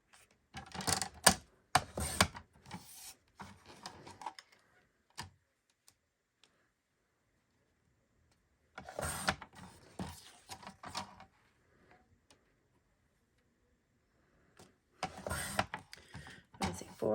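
Cardstock strips slice through a paper trimmer in three separate bursts of crisp scraping, clicking cuts, with quiet pauses between them.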